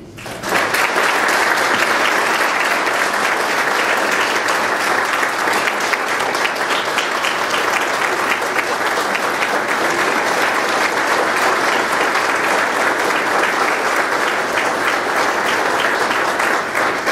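Steady, dense audience applause fills a university hall in Jackson as Ambassador Alan Keyes is welcomed, sustained and even in loudness throughout with no break.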